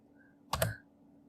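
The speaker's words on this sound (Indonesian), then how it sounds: "Kita tekan tombol G pada keyboard" A single key press on a computer keyboard gives a short double click, close and clear, followed by near silence.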